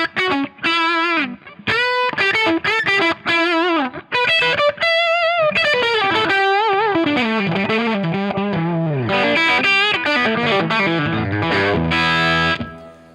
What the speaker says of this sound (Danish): Det er en Marshall JTM 45 lige skruet godt op. Sådan lyder den.